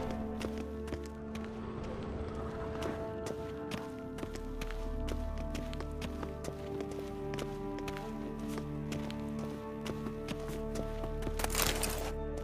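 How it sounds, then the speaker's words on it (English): Footsteps approach through the stone halls of The Witcher 3, a steady tapping of feet set over a droning ambient music bed, at moderate volume. "Footsteps."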